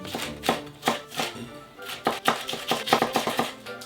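Knife chopping chili pepper into small pieces on a cutting board, a quick irregular series of crisp close taps, some in rapid bursts, with no talk.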